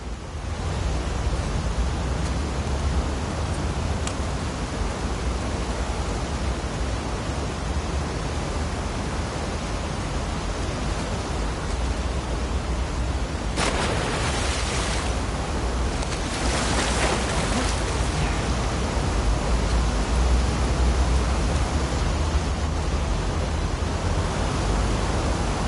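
Waves wash around a swimmer heading to the aquarium in The Last of Us Part II, a steady, dense rush of surf noise that runs unbroken throughout, with a brief louder splash surge near the middle.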